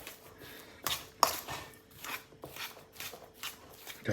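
Fork working through gnocchi dough ingredients in a bowl: a series of irregular scraping, squishing strokes, close and quiet, with no talk.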